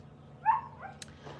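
A dog named Daisy gives a short, faint whimpering yip midway, followed by a few soft squeaky whines and a brief thump in an otherwise quiet room.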